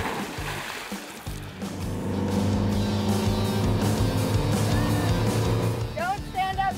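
A motorboat engine drones steadily while towing a wakeboarder, with water rushing and splashing around the hull, loud and continuous throughout.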